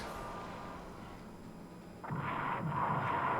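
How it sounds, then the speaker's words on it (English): Torpedo strikes against a ship in the War in the Pacific game: after a quiet, noisy lull, a loud muffled blast erupts and rumbles on with a couple of further swells to the end. "So one torpedo hit, a second torpedo hit"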